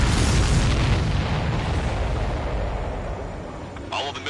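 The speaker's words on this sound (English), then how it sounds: "Missile hit." A missile strikes and explodes in a flight combat game, a loud booming blast that rolls off and decays over several seconds, with a voice at the very end.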